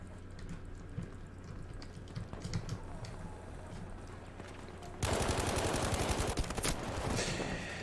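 Gunfire in Battlefield V, with scattered shots and distant firing for several seconds before a loud, sustained burst of rapid automatic fire erupts close by and runs to the end.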